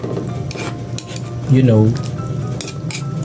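Chicken gets stirred in a cooking pot with a utensil, giving a few scraping, clinking strokes over a soft sizzle while someone says a couple of words.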